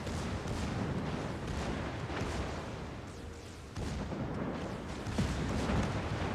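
Battleship guns fire in the naval game World of Warships as shells strike the belt armor of a Yamato. The booms blend into a constant, rumbling barrage that stays fairly faint in the distance, with no clear gaps between shots.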